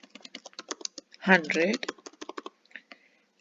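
Keys clack on a computer keyboard in a quick, irregular run of crisp taps, close and fairly clear, with a short stretch of talk over the middle of the typing.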